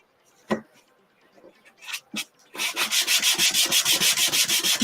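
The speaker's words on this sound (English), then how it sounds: "I'm going to try to sand off where I went over." A wooden cutting board is sanded by hand. A few scattered bumps and scrapes lead into steady, rapid back-and-forth rasping strokes, loud and close.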